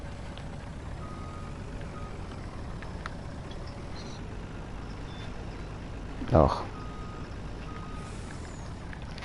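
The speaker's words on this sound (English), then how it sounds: "I have to be a bit careful with the big truck" Faint, steady reversing beeps from a big truck in a farming video game on a Nevada farm map, repeating quietly under a low engine rumble, with a short louder bump and a brief voice partway through.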